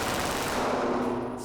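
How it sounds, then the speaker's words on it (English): A Glock pistol fitted with an auto switch fires a continuous fully automatic burst, a loud dense roar of rapid shots lasting about a second and a half with no pauses. "in a machine gun, you pull the trigger one time, all the rounds expel"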